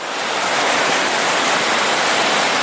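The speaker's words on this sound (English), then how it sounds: "there are waterfalls and cascades, and it's absolutely spectacular" Back-country waterfall and cascading stream, a steady, loud broadband rush of falling water that holds constant throughout with no voices.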